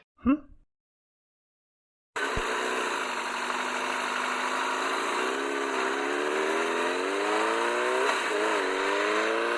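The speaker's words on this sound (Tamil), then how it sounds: "வண்டி கொஞ்சம் பைய ஓட்டு" After a brief sound and a pause of silence, a vehicle engine starts droning steadily while driving, its hum rising and falling gently in pitch as it moves, close and constant to the end.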